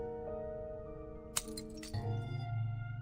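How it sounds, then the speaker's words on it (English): Glass shatters, muffled, in the game Reverse: 1999: a sharp clink lands over soft sustained music, followed by a brief crunchy burst of breaking fragments. "A muffled shattering of glass interrupts their reading"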